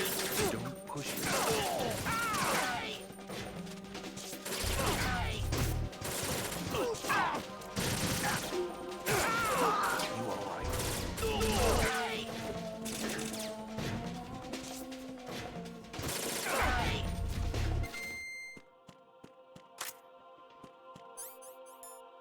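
Gunfire and hard impacts from Metal Gear Solid 2: Sons of Liberty on PlayStation 3: loud, repeated bursts of shots and crashes in quick clusters for most of the stretch, then a sudden drop to quieter game sounds near the end.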